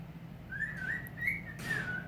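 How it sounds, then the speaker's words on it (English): A pet bird gives a few clear, rising and falling whistles and chirps in a quiet room, close and moderately loud, with a low steady hum underneath. "Bethany's bird says hello as well"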